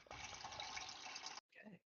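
A steady stream of water fills from a refrigerator water dispenser for over a second, fairly close and continuous, then cuts off abruptly before a short voiced sound follows.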